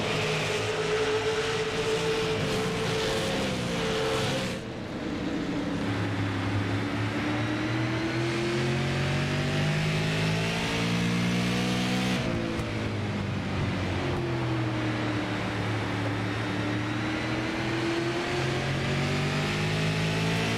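Super late model race cars racing at Stafford, loud engines roaring and revving in a continuous pack, pitch rising and falling as cars accelerate and pass, a brief dip mid-way, no voices.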